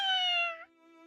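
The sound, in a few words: cat meowing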